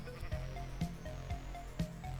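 Minecraft sheep bleating near water, several short bleats spaced roughly half a second apart over a low steady background hum, fairly faint, no voices.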